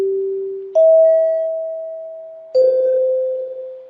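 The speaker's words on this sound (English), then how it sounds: "you're familiar with the NBC chime" Three NBC chimes ring out in sequence, each clear bell-like tone struck and left to decay, the second higher than the first and the third slightly lower, alone against silence.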